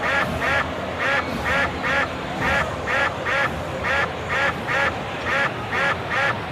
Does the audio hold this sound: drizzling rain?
no